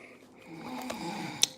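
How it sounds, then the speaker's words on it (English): One snore rises and then fades, a rough, breathy drone heard close up, with a sharp little snort or click near the end. "that's all snoring"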